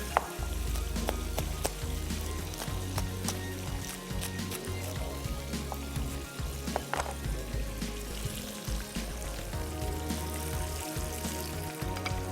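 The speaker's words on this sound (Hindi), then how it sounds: "चूँकि दाल फ्राई है, थोड़ा सा हाई फ्लेम के ऊपर हमने इसको फ्राई करना है।" Dal with tomatoes fries on a high flame, giving a steady close sizzle with scattered crackles and pops throughout and occasional stirring clatter.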